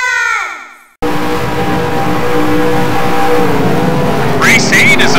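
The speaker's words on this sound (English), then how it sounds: "Gentlemen, start your engines!" Race car engines fire up and rev together at the start of an amateur endurance race, a loud sustained roar of several engines after a voice cuts off, with a rising whine near the end.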